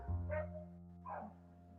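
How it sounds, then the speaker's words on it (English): A neighbour's dog barks outdoors, two short yelping barks about a second apart over a steady low hum, moderately close but not loud. "The neighbor is walking with a dog"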